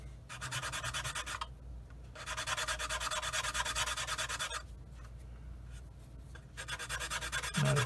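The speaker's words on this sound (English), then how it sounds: "I just need to sand this off and contour with the angle of this part here" A plastic part from a Revell 1/48 F-15C Eagle model kit gets sanded by hand in rhythmic bursts of close, raspy rubbing strokes, separated by short pauses.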